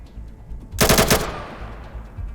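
A short, loud burst of rapid automatic gunfire in the video game ATOM RPG: Trudograd, several quick shots lasting about half a second, followed by fading echo and low background noise.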